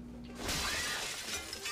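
Glass shatters in one loud, close crash, followed by a bright, brief scatter of breaking shards.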